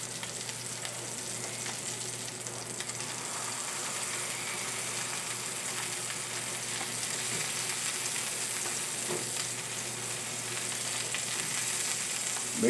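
Duck breast skin renders in a pan with a steady, even sizzle and fine crackle, running continuously at moderate level with a faint low hum beneath and no voices.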